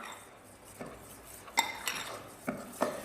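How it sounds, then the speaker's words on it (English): A utensil stirs an icing sugar mixture in a bowl, giving intermittent clinks and scrapes against the bowl in an irregular rhythm, close up, with no talking. "So, icing sugar in. Alright, start stirring, young man."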